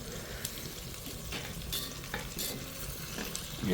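Fish and garlic fry in butter in a pan, a steady close sizzle with soft scraping stirs, no voices.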